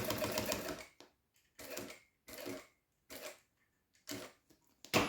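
A sewing machine stitches a glasses case with PVC in repeated short bursts, about five separate runs of rapid clatter broken by brief pauses, close and fairly quiet.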